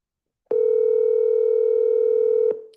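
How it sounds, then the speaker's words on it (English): A single steady telephone tone sounds for about two seconds while sellers are being called, loud and clear with abrupt start and stop and a short fading tail. "We are double dialing everything."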